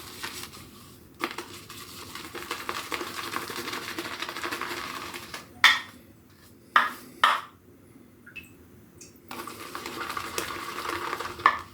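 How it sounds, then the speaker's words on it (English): A Simpson M7 shaving brush works shaving soap into a lather in a small bowl, giving a continuous wet, swishing stir with a few sharp clinks of the brush against the bowl midway through. "This is very, very creamy. This is lathering really well."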